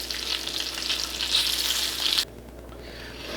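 Squirrel meat frying in hot grease in a pan, a loud steady sizzle and crackle close up that drops abruptly to a faint hiss near the end, with no talk.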